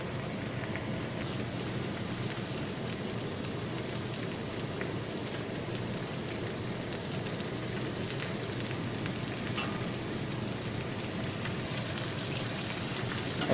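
Garlic and thyme sizzle in a frying pan beside spatchcocked chicken, making a constant, even crackling hiss like rain that continues without pause.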